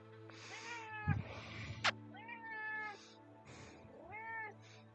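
Pet cat Roxy meows several times in clear, close, drawn-out calls, with short pauses between them and a couple of sharp knocks partway through.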